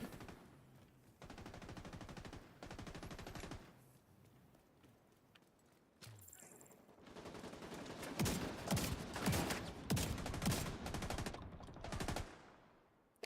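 Repeated gunfire bursts from The Division, loud and close, with clusters of rapid shots separated by short pauses and a distinct sharp burst near the end.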